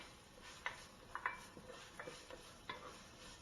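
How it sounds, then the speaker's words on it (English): Chopped garlic sizzles in a pan over a soft, steady frying hiss, with occasional sharp ticks and light scrapes of a utensil against the pan, quiet and close, no talking. "I cook the garlic for about 30 seconds"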